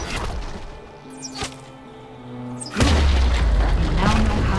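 An enemy turret is destroyed in the Wild Rift mobile game, with a heavy booming explosion that erupts near the end and rolls on loudly after a stretch of quieter game sounds and tones.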